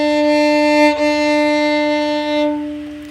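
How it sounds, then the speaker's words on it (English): A violin's open D string is bowed in a long, steady sustained tone, close and loud, with one brief bow change partway through and nothing else heard. "So this is the D string."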